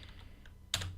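Keys on a computer keyboard are pressed while code is typed, a few faint scattered taps followed by a louder, closer burst of clicking near the end.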